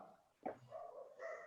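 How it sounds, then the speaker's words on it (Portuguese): A neighbor's dog gives one short bark, then a few softer yips and whimpers, faint and somewhat distant in a quiet room. "Se escutar um cachorro, é o cachorro do vizinho aqui"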